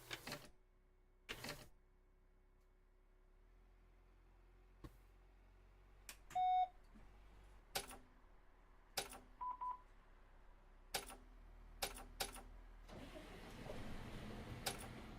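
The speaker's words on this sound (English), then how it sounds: "let's turn the bus on." Bus in OMSI 2 being switched on: a series of sharp isolated clicks and switch beeps in a quiet cab, with a faint electrical hum, ending in the engine cranking and rumbling to life.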